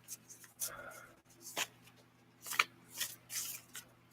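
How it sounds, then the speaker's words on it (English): Tarot cards being shuffled and pulled from the deck, a series of soft papery riffles and slides coming in short bursts, close and fairly quiet over a steady low hum. "I will pull your cards and see what they say."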